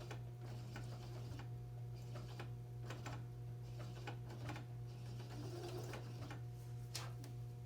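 Domestic sewing machine slowly stitching through a thick, bulky seam on a cotton pillowcase, a steady close mechanical whir and hum with faint ticking of the needle, continuous and without talk.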